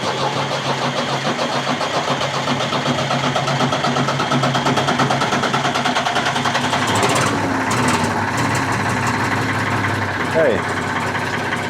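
A repaired Ford 4000 tractor engine cranks and catches, then settles into a steady, loud diesel idle with a rapid mechanical chatter, a brief spoken word heard over it.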